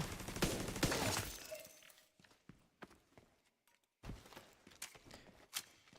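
A turret in The Division 2 fires a loud burst of rapid shots, then sparse scattered gunfire and footsteps follow, with another cluster of sharp reports near the end.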